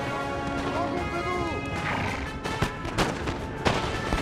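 Musket volleys crack in a Napoleon: Total War battle against the French, sharp scattered shots over a dense battlefield din with horses and shouting, and someone talks over the noise.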